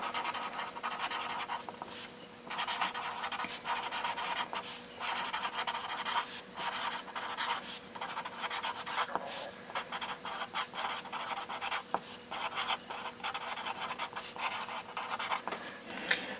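A pen draws a triangle on paper, giving repeated soft scratchy strokes in uneven bursts with brief pauses, close and quiet, with no talk.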